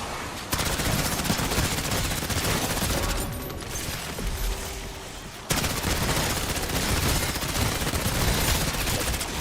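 CR-56 AMAX assault rifle fire from Black Ops 6 roars in long, dense automatic bursts, loud and close, with a short lull midway before the shooting resumes.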